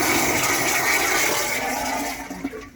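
A Royal Flush Headhunter toilet in a luxury bus bathroom flushes with a loud, close rush of water that holds steady, then tapers off with a few gurgles at the end.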